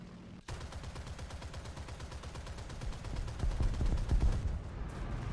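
Rapid tank and machine-gun fire in War Thunder aimed at an SPA, a dense rattling burst of shots that keeps going for several seconds and swells louder toward the end, with no talk.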